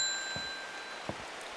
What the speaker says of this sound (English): Let's ding the bell